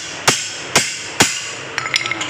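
Three loud, evenly spaced metallic hammer strikes on a wrench loosening a tight wheel bearing bolt on a Mitsubishi Outlander's rear wheel, followed by a few lighter, quicker taps.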